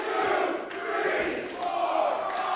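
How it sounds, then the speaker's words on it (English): Greektown Wrestling fans chant along in unison with a referee's pin count, a loud rhythmic crowd roar with rising shouts, close and continuous over a short stretch. "You can hear the crowd count along."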